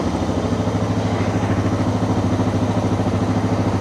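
A Suzuki DR650 motorcycle engine runs steadily at idle, a loud, even low throb with a regular pulsing rhythm and mechanical clatter throughout, no voices present.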